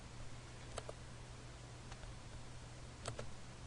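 Faint mouse clicks on a computer as checkboxes are ticked, a few isolated sharp clicks in pairs over a steady low hum, with no talking.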